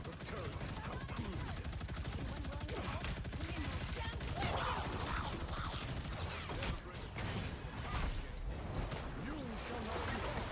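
Turret gunfire in a video game rattles in a fast, steady stream of mechanical shots throughout, dense and continuous with occasional louder bursts, fairly quiet overall.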